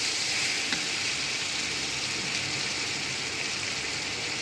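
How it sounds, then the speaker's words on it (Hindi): Chicken and potato pieces sizzle steadily in hot oil in a kadai, a loud, even, close frying hiss without a break. "इसके साथ ही इसी को तल लेंगे, गोश्त के साथ चलाएगा"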